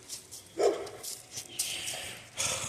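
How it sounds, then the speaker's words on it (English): Dog barking a few times at a distance, faint short barks scattered over a low background. "crazy dog"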